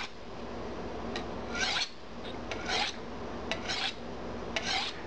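A kitchen knife draws across a sharpening stone in steady rasping strokes, several passes in a row with short pauses between them, close and fairly quiet with no talk.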